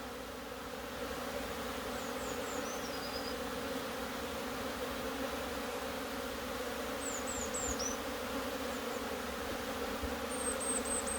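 Bees hum steadily at a beehive in an apiary in late January, a constant low drone with faint high chirps of birds now and then, and no talking.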